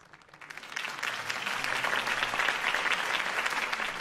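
Applause from a crowd in the video game Batman: The Telltale Series swells up after a quiet start and holds steady as a dense, continuous wash of clapping.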